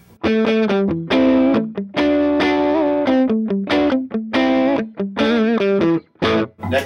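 Distorted electric guitar on the middle pickup plays choppy riffs and sustained bent notes in repeated bursts, loud and close with short pauses and no speech.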